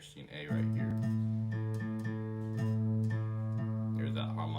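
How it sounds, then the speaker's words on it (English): Two guitar strings sounding the same note A ring together in a sustained, steady tone, with faint re-picked attacks and no talking. "There's that harmonic sound you can hear when you're playing both the same notes."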